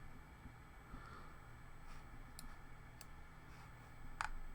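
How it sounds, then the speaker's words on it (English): A few faint, sharp computer mouse clicks during a PC game session, spaced irregularly over a low, steady background hum. "Click, click, click."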